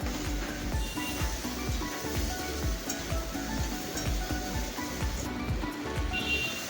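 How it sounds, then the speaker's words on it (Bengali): Steady, close sizzling as pre-fried pointed gourd goes into a pan of frying potatoes for a vegetarian dish, with a continuous crackle of hot oil and no voices. "দিয়ে দিলাম ভেজে রাখা পটলগুলো।"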